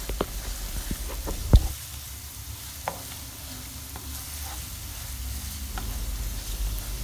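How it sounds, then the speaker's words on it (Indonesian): Finely chopped garlic sizzles in a hot pan on a stove, a steady soft frying hiss with a few sharp clicks of stirring utensils against the pan. "Apabila sudah panas, bisa kita masukkan untuk bawang putihnya yang sudah tadi kita potong-potong"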